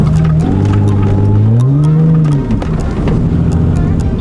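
An Audi S4 slides through a drift on snow, its engine droning loud and steady with pitch rising and falling through the revs as it slides, while a voice talks over it.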